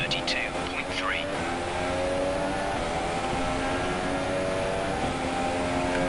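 Formula 1 car engine from the F1 2017 racing video game, a steady, loud high-pitched whine holding throughout with a brief rising note near the start, and faint talk underneath.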